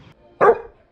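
A single sharp bark from a young pet dog, a puppy named Kitt, loud and close in a quiet room, lasting a fraction of a second.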